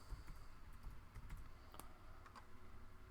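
Rapid, soft clicking of keys as a password is typed on a computer keyboard, an irregular stream of light taps close by at low volume with no talk.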